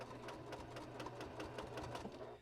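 A sewing machine stitches straight across a layered quilt, its steady rapid needle rattle running evenly and close for the whole stretch with no voices.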